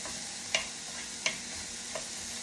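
Onions cooking in butter sizzle steadily in a pan while a spoon stirs them, with three brief scraping strokes standing out above the constant frying hiss.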